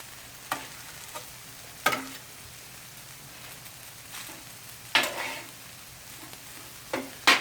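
Chicken fried rice sizzling on a grill under a steady frying hiss, broken by several sharp scraping bursts as a spatula turns and flips the rice, close and loud.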